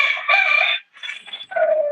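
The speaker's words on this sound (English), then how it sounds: "don't mind my rooster. He's trying to join the conversation" A pet rooster crows loudly and close, one long crow with a brief pause and a shorter second call.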